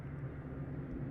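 A helicopter passes at night outside an open window, heard as a steady, faint low rotor drone with no talk over it.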